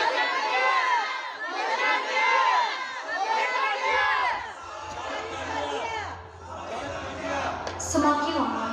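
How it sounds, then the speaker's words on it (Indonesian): A church tableau crowd shouts 'crucify him' together in Indonesian, loud massed voices chanting in repeated surging bursts that swell and fade, with a low hum joining partway through. "Semakin lama, semakin bergemuruh teriakan mereka."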